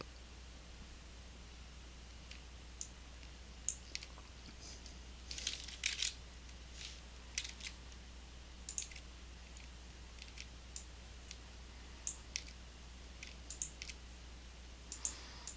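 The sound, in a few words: mouse clicking in Photoshop with the type tool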